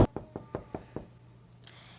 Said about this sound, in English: We gotta knock at the door.